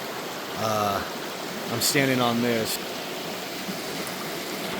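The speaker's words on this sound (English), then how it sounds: "This creek runs right here, and it is awesome." A creek rushes past a campsite in Arapaho National Forest, a steady broadband wash of flowing water running throughout while someone talks over it in two short bursts.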